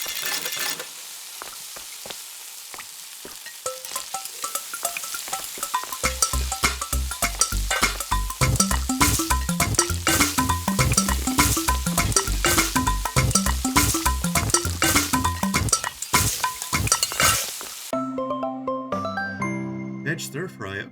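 Mushroom meal cooking in the video game Eastward, with a busy patter of stirring and sizzling effects over a rhythmic, looping game tune that switches to a sparser cue near the end; loud and steady throughout.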